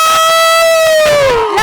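Girls in the audience at a film trailer launch event let out a loud, shrill, sustained cry that holds steady and then slides downward in pitch, filling the whole moment.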